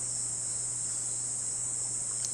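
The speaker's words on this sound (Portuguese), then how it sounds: "Gente, tem uma cigarra aqui dentro de onde eu tô." A cicada drones indoors with a steady, loud, high-pitched buzz that holds without a break, over a low constant hum.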